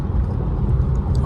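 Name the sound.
Mercedes C300 car driving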